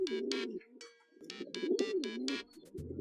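A bird coos in the video game Hiveswap, giving a run of soft rhythmic coos and throaty calls over about three seconds, close and clear, with no one talking.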